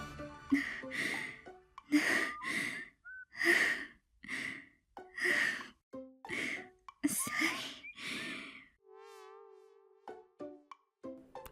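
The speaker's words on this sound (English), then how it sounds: "Moeka apologized and gasped for breath" Moeka, a character in the visual novel Steins;Gate 0, gasps for breath in a string of short, breathy voiced gasps and sighs, ending with a brief tonal game chime.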